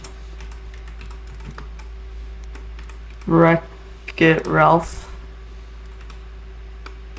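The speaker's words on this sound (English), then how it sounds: "Don't judge my poor typing skills. I still gotta look at the keyboard" Slow, hesitant typing on a computer keyboard in short bursts of clicks, heard close and under intermittent speech.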